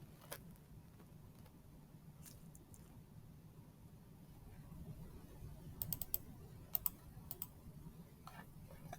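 Faint, sparse mouse clicks and light key taps while brush settings are changed in a digital watercolor painting program, a few sharp clicks clustering near the end over a low steady hum.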